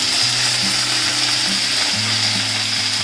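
Mustard seeds splutter in hot oil for tempering, a dense continuous crackle and sizzle under a low humming motor drone, close and steady with no talk.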